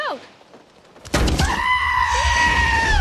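A goat bleats loudly and close after a quiet start, a sustained wavering cry lasting a couple of seconds.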